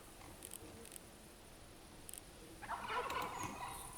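A wild turkey gobbles once in the distance, a brief rattling burst rising out of quiet woodland ambience with faint bird chirps earlier.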